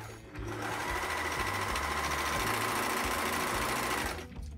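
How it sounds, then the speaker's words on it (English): An overlocker sews along the raw edges of dress fabric for a 1960s dress from a vintage pattern. Its rapid, steady mechanical whirr runs loud and close, without a break, for about four seconds. "I knew I would need to overlock all the raw edges before I started sewing to prevent it fraying to shreds as I stitched it"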